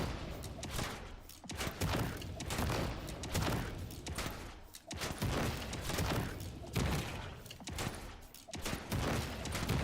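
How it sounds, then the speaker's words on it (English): Rapid bursts of gunfire from a mines-themed video game, quick shots fired in clusters with brief pauses between, loud and close across the whole stretch, with faint talk. "If I do just like quick shots."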